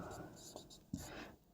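A pen scratches on paper during a maths exercise in close, quiet strokes with one sharper tap, while a low, whispery voice is faintly heard.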